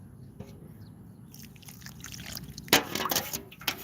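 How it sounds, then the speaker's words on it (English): Water poured into sand while making a Chamorro sling stone, a soft trickle and splash that grows louder in the last seconds, with faint background noise and no talk. "And then we're gonna put some water in there."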